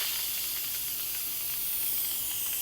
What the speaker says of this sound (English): Get all that steam out of there.